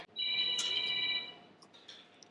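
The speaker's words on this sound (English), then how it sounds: "Somebody's phone's gone off." A mobile phone rings in a restaurant in Portugal, one steady electronic ringtone burst lasting about a second, fairly faint and in the background, then fading into quiet room noise.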